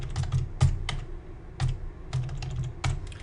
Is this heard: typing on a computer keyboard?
yes